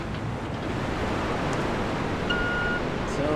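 Waterfall in Resident Evil 2, a loud, steady wash of broadband water noise that roars continuously without break, close by, with faint small sounds now and then beneath it.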